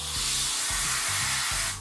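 The steam knob is opened on an El Rocio Manus S espresso machine, releasing a loud, continuous hiss of escaping steam with a low pulsing rumble underneath, close up and alone.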